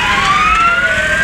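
Engine number 11 of the Hamlet Fire Department sounds a loud, close wailing siren at a Christmas parade, its pitch sweeping steadily in one long glide.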